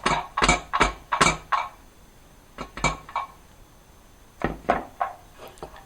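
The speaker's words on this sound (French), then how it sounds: "on verse tout ça dans une passoire, à nouveau, pour pouvoir égoutter, je dirais, le plus possible de sucre liquide" Sugared sweet corn kernels poured into a metal colander to drain off liquid sugar, giving several clustered bursts of rattling, clattering impacts in three quick groups, close and fairly loud with brief pauses between.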